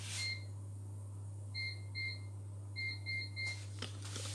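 A kitchen timer being set while cooking sweet potato fries and IKEA-style meatballs gives off short electronic beeps, a single one followed by clustered pairs and a run of three, fairly quiet over a steady low hum.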